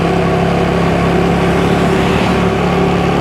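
A car driving on a loop around an island near El Nido, its steady engine drone and road rumble continuous and fairly loud throughout, with no voices.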